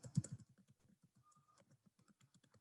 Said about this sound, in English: So I've typed in the Windows username and password, the Windows credential of the HR